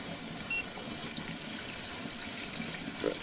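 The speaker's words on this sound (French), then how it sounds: "l'eau qui coule de nouveau" Water running again through a drain pipe where roots have grown into a pipe joint, a steady low trickling rush heard close and alone.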